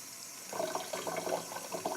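Water running and splashing as a container is filled for soaking dandelion leaves, a soft gurgling trickle that starts after a brief pause, faint and with no one talking.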